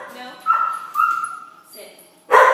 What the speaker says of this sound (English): we made a point to have a loud dog in here